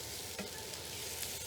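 Mushrooms, peppers and onions sizzle steadily in a hot pan, with a dense continuous frying hiss and occasional scraping stirs, close and with no talking.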